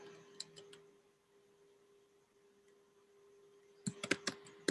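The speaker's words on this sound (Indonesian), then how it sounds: "saya belum selesai mengetik" Typing on a computer keyboard: a few quick key clicks at the start, a quiet stretch with a steady low hum, then a fast, louder burst of keystrokes at the end.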